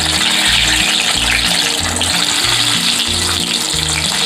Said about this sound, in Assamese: মই এতিয়া এইখিনি আকৌ এবাৰ ফ্ৰাই কৰি দিম।